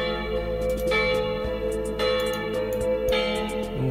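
A small bell tuned to the note A rings in repeated sustained strikes, each bright onset decaying into a long humming tone, with no voices.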